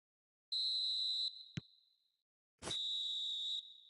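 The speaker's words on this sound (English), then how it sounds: "And the half-time whistle goes." Referee's half-time whistle in the football video game PES 2021: two long shrill blasts, the first held about a second and the second after a short gap, loud and alone against silence, with a brief click between them.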